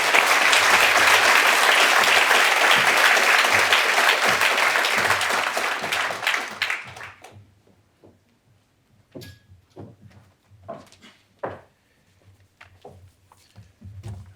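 Loud, sustained audience applause at a book launch greets a speaker coming to the stage. It fades out after about seven seconds, leaving scattered thumps, shuffles and light handling noises in a quiet room.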